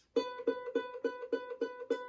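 A ukulele plays a single note at fret 2 of the A string, plucked eight times in a steady, even rhythm. Each pluck rings clearly and briefly, close and alone with no talking.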